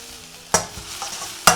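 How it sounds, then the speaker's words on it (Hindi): Spring onion whites and green chillies hit hot oil in a pan for chicken soup, with two sharp sizzling bursts about a second apart, each fading quickly, and no talking. "तो अब डाल देंगे स्प्रिंग अनियंस का वाइट पार्ट और हरी मिर्च"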